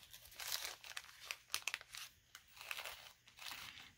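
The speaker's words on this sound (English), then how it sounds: "Get through the staples and the tape and all of the security measures here." Paper and plastic packaging crinkling and tearing as a thrift-store haul package is opened through staples and tape, with close, bursty rustles and sharp crunches in irregular clusters, no talking.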